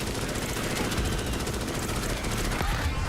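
Rapid, continuous gunfire in the video game Starship Troopers: Extermination, a dense automatic rattle of many shots that barely lets up. Background noise sits beneath it, with some speech mixed in.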